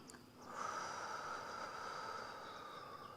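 A long, steady breathy exhale during a Pilates exercise, rising after a brief quiet start and holding at an even, moderately close level for about three seconds, with no talking over it.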